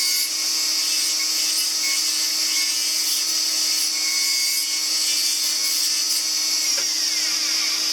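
A high-speed dental handpiece grinds down the edge of an acrylic partial denture flange, a steady, close, loud whine with gritty scraping that holds unbroken for several seconds.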